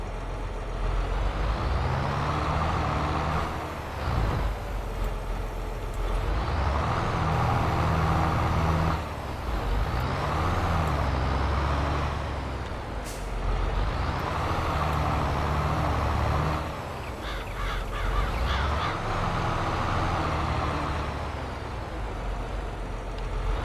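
A tractor pushes a silage leveler back and forth across a silage pile in Farming Simulator 22, its loud, steady engine drone rising and dipping in pitch as it changes direction, running continuously with no talk.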